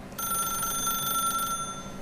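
An old-fashioned telephone bell rings in The Stanley Parable, a steady bright electronic trill lasting over a second before cutting off, loud and alone.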